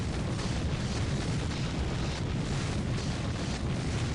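Particle cannon blast from Dawn of War: Ultimate Apocalypse, a strategy game with Imperial Guard fighting Tyranids, a steady roaring, rumbling explosion that holds at a loud level for several seconds.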